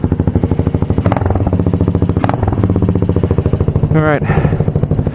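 A motorcycle with a freshly fixed exhaust idles close by with a low, rhythmic rumble of steady, evenly spaced pulses; someone speaks briefly over it.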